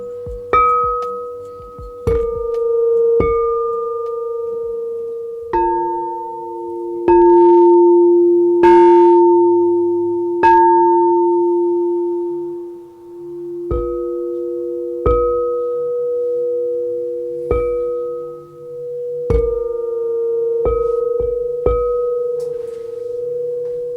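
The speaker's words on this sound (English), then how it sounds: "right now we're gonna start with just my sound bowls" Singing sound bowls are struck repeatedly at uneven intervals, each strike a clear metallic ping that blooms into long sustained overlapping tones and slowly fades, with no talking.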